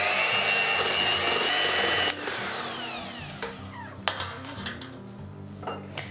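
Beating an egg into Basque cheesecake batter: a steady motorized whir runs for about two seconds, then cuts off, leaving a few light clinks and knocks against the bowl.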